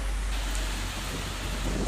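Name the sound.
heavy rain with strong wind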